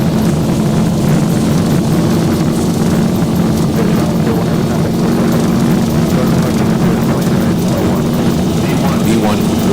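Airliner engines roaring steadily during the takeoff roll in the X-Plane 12 flight simulator, a Zibo mod Boeing 737 departing KRIC, a constant loud broadband thrust drone with cockpit voices calling out over it.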